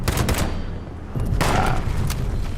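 Gunfire in the video game Fallout 76: a dense burst of rapid shots fills the first second, a brief lull follows, then another stretch of booming fire resumes, loud and close.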